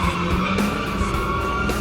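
A car drifting with its tires squealing, a continuous loud screech with engine roar underneath, steady throughout.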